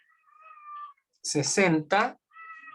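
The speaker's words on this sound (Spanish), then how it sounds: "tengo un gatito acá chiquitito que está llorando" A tiny kitten cries with thin, high meows, one before and one after a brief stretch of a person speaking close by.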